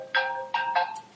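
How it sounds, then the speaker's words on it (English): A mobile phone ringtone goes off nearby, playing three bright electronic melodic bursts in quick succession, clear and fairly loud against a quiet room with no talking. "Forgive me, my phone has gone"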